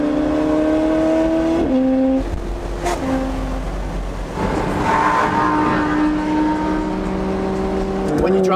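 A car cruises at over 100 km/h on a long road trip, its steady engine and road rumble running throughout, with tonal whine lines shifting up and down as speed varies, and voices faintly present beneath.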